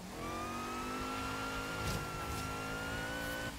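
Car engine revving in Forza Horizon 3, Hot Wheels expansion, a steady high-pitched whine held near and loud for several seconds, with a faint tire squeal partway through.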